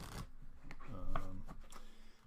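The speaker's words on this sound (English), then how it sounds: "I will shuffle them again." A deck of cards is shuffled by hand at close range, giving soft riffling and sliding bursts with a brief faint tonal hum in the middle, quiet and with no talking.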